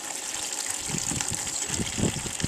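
Coolant trickles and gushes from a hose pulled off a Suzuki Hayabusa motorcycle, a faint, uneven splashing of liquid with a few louder spurts.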